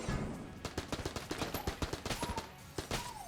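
Rapid enemy gunfire in Enter the Gungeon crackles as a quick string of sharp, evenly spaced shots, a dozen or more in close succession, loud and close, with faint tonal game effects sliding underneath.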